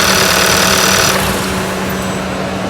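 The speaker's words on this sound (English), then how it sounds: "as we can see, the vehicle dies immediately" A running car engine stalls after its crankshaft position sensor is unplugged, a loud, close, steady mechanical roar that drops in brightness partway through and continues as a dull rumble, with no talk.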